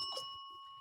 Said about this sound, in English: Beautiful, crisp, clean bell audio.